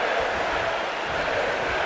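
Dense, steady roar of an arena crowd cheering in a WWE wrestling video game match, loud and continuous with no distinct voices standing out.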